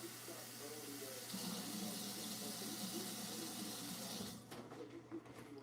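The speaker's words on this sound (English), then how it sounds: "So I have my 3/4 cup water, and I'm just going to go ahead and pour that in here like this." Three-quarters of a cup of water poured into a container while starting garden seeds, a steady, close splashing pour that runs for about four seconds before tapering into faint drips and handling sounds.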